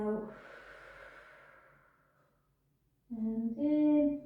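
Deep breath out during a slow stretching session, a long soft exhale fading away, then a short sharper breath that rises in tone, close and alone.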